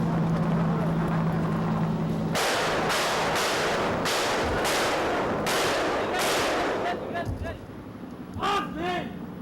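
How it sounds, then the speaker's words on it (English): Sharp repeated gunfire bursts during a guerrilla attack, a run of loud cracks spaced a second or so apart, then ragged echoing shots, over a constant low engine rumble like a boat or vehicle. "It's unclear who has fired or who was the target."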